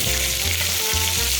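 An A5 Wagyu steak is basted with garlic in a hot pan, giving a constant loud sizzle and spatter over background music.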